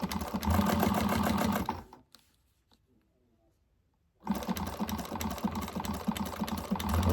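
Sewing machine stitching steadily along a curved bag handle, a continuous loud mechanical whir that stops for about two seconds and then resumes.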